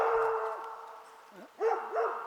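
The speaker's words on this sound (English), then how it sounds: "it's just this freaking dog over there barking, and so they're just barking back" A dog barking outdoors nearby, a few yelping barks after a pause, moderately loud, with faint background hum.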